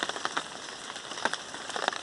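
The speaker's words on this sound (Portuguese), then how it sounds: "a chuva tá aí continuando" Steady rain keeps falling outside, heard as a soft continuous hiss scattered with irregular pattering taps of drops on a surface, with no voices.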